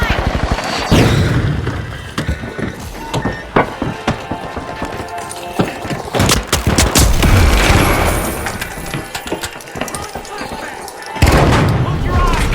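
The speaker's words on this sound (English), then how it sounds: "Firing thermite!" Thermite fired in the shooter game The Finals, loud booming blasts and crackling impacts mixed with rapid gunfire and running, with bursts of heavy noise throughout.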